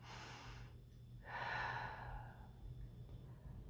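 One deep breath drawn in and released during a calm grief-healing self-help exercise, soft and close over a quiet low hum.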